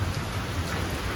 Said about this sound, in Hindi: मतलब भयानक वाला बारिश हो रहा है